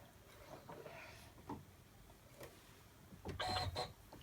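Embroidery machine stitching out a gingerbread boy tree hanger, a quiet, uneven mechanical whirring with irregular clicks and a louder burst near the end, with no voices.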